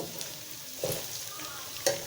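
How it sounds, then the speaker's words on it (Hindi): Onions sizzling and sautéing in a pan for chicken chow mein, a steady soft frying hiss broken by a couple of sharp stirring clinks of a utensil against the pan. "ये प्याज हमारे अच्छी तरह से सॉटे हो चुके हैं"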